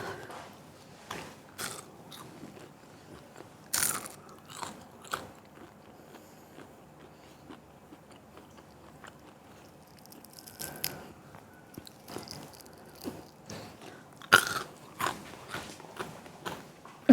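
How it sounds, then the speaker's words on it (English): Crunchy bites into a crispy pork belly banh mi, each bite a sharp crackling burst with chewing between, close up and fairly loud, repeated irregularly over a quiet room with no talking. "Can you hear this crunch?"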